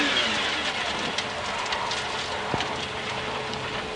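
A McLaren F1 accelerating hard from a standstill then braking back to a stop, its engine a loud, steady roar that rises and holds with a brief thump partway through, no voices.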